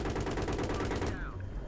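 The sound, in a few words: gunfire in video game Battlefield 3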